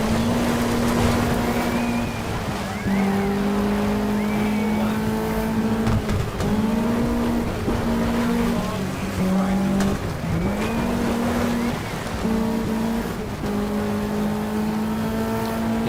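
A rally car in the Sega Rally video game drones through a curve with its engine pitch rising and falling through gear changes, and tires squeal at times. The engine stays loud and steady throughout.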